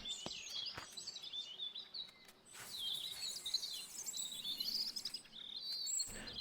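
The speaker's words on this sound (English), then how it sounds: "All the robins are here." Robins chirping in the garden game Botany Manor: a scatter of high bright chirps and twitters, fairly faint, over a soft ambient bed with a few clicks.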